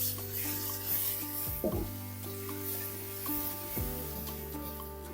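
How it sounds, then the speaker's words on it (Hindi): Crushed ginger and garlic with ginger-garlic paste fry in a hot pan with a steady sizzle, punctuated by two scraping stirs of a spoon, for a nahari. "अदरक लहसुन को भी भून लें।"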